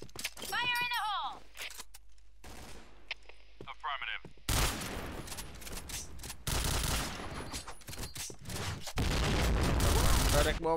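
Bursts of video game gunfire and explosive effects crackle in loud, chaotic volleys, mixed with synthetic game sounds and rising into a dense barrage toward the end.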